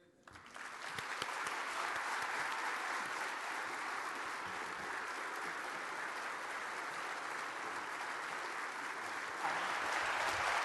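Audience applause welcoming Coach Herman Boone at a keynote address, a steady loud wash of clapping that swells in after a quiet start and holds for about ten seconds, with no talk over it.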